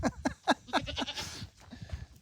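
Young goats in a herd bleat in a quick series of short, high, wavering calls, fairly close, followed by softer scattered bleats and shuffling.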